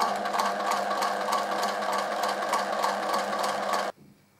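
A sewing machine runs steadily, stitching in the ditch along a quilted fabric coaster, with a close, even mechanical whir and needle chatter that stops abruptly near the end.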